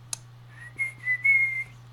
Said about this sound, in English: It's like when people can whistle really well.